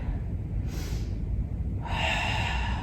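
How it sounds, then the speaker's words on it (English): Audible yoga breathing, a sharp nasal inhale followed by a longer, airy exhale, close and alone with no talk. "Breathing."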